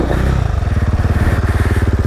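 A motorcycle pulls away on a steep hill after a clutch pop, its engine thudding into a close, loud, rapid and even putter that carries on to the end.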